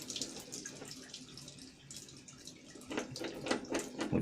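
Water hisses and splashes from a leaking threaded pipe fitting sealed with teflon tape as the pressure drops, close and continuous with small drips and spatters.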